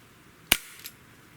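A single sharp crack from a Sig Sauer X-Five ASP air pistol firing 6.9-grain lead pellets, close and crisp, followed by a softer faint pellet impact just after in an otherwise quiet room.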